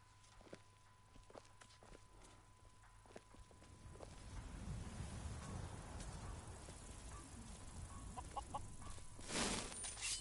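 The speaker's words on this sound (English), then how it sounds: "Hey, chicken run." Skyrim chickens clucking softly in the village of Rorikstead, faint scattered calls among footsteps and ambient game sound that grows busier, with no talk.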